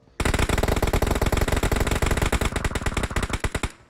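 Sustained automatic gunfire from PUBG Mobile rattles out as one long, loud, rapid burst of closely spaced shots lasting several seconds before cutting off.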